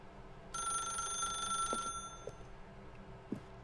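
An electronic telephone ringing in The Stanley Parable, a bright buzzing ring burst lasting over a second, followed by faint quiet clicks in a hushed room.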